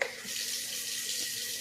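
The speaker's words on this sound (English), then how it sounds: "I'm going to put a little more water in this" Water pours steadily into a small electric wafer paper moisture spritzer, a close, continuous splashing trickle with no talk.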